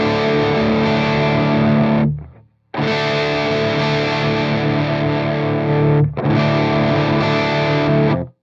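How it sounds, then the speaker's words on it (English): Heavily distorted electric guitar through a Mesa Boogie Dual Rectifier vintage channel with a mid-boost EQ pedal, three sustained loud chords separated by short silences, the tone shifting as the pedal switches on and then off. "you can hear how like congested and muffled and honky those mid frequencies are on this vintage channel when I turn the EQ pedal off"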